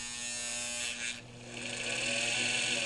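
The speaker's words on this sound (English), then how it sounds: "I'm going to add winding a bobbin." A Singer 237 sewing machine winding a bobbin: a steady, close electric motor whir that dips briefly, then climbs back to a higher, sustained hum.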